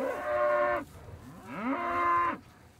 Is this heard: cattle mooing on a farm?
yes